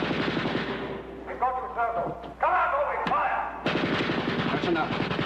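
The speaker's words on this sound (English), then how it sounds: "Come out or we fire." Rapid machine-gun bursts rattle through a 1956 British film scene, with dense repeated shots, a few heavier thuds and sharp cracks, and voices shouting over the firing.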